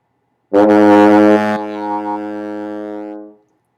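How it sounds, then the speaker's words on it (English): A single low E flat on a wind instrument, a sustained reedy note held steadily for about three seconds before fading out, loud and close. "the first note, the low E flat, sounds like this."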